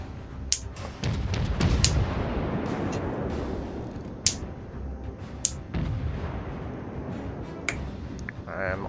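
Naval guns firing high-explosive shells in World of Warships, heard as sharp, loud reports scattered irregularly over a continuous rumbling battle background, several distinct blasts standing out.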